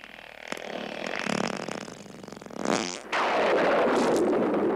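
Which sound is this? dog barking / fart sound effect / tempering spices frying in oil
fart sound effect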